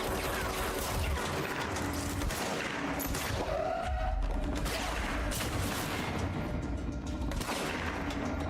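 Rapid gunfire from the action game Control, bursts of sharp shots crackling continuously and densely, fairly loud and up front with mechanical clatter mixed in.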